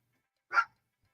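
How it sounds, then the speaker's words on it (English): One short, sharp yap from a small pet dog, close by and clear against otherwise silent surroundings. "As my little dog is going bananas. You can hear a little dog."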